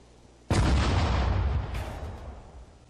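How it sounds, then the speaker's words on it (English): Artillery fire in the Sudden Strike 4 strategy game, Sidi Barrani battle: a single heavy boom erupts abruptly, then a long rumbling roll of debris and echo slowly fades, with a second burst layered partway through. "But we're definitely going to be using artillery fire here."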